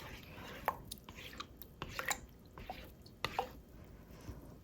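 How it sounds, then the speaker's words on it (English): Spoon stirring sourdough starter into water, giving soft wet squishes and faint drips in an irregular rhythm, close and quiet. "I will mix, kind of like mix my starter with the water"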